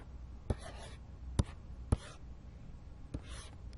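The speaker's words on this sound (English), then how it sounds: "Let me write this a little bit neater." Chalk or marker strokes on a board during a math lecture: a few sharp taps and short scratchy strokes spaced over a few seconds, fairly faint against a quiet room with no talking.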